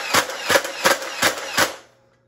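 A Nerf blaster fired five times in quick, evenly spaced succession, each shot a sharp, loud pop up close, followed by a short fading tail and silence.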